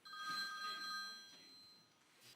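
A cell phone rings somewhere in a theater audience, its electronic ringtone tones sounding faint and distant in the room with a soft hall murmur around it.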